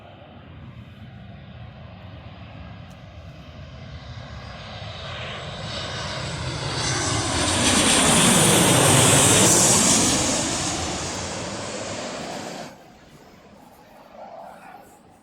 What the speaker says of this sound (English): I believe the next one is a Jet 2 Boeing 737 and it's grey and red livery